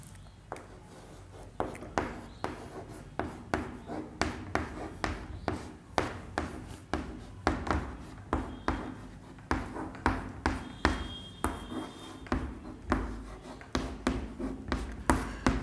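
Pen strokes on paper as a definition is written by hand, with quiet scratching and tapping in irregular bursts, close up and continuing for over fifteen seconds.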